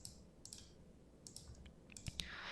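A few light mouse clicks tap on a software button in spreadsheet work, quiet and near, spaced irregularly over faint background hiss.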